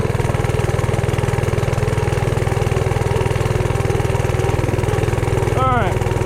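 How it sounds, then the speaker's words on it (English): Small engine of a Coleman CT100U mini bike running steadily under heavy load, a loud close rapid droning putter that holds constant with a brief whine near the end; a voice speaks over it. "Once it engages, it picks up a little. Probably because the engine's under a massive load."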